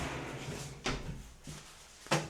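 Sliding glass shower door on a bathroom fit-out with a magnetic closing strip, giving three faint, short knocks and thuds as it slides and shuts, with no talk.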